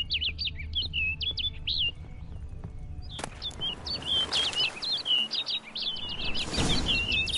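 Bird in The Witcher 3 game, quick chirping trills in two bursts, the second busier and brighter after a sharp click, set over a soft outdoor ambience.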